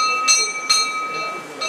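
A bell rings at a bowls green during torrential rain, with a few bright, sharp strikes whose sustained tones ring out over a steady background wash.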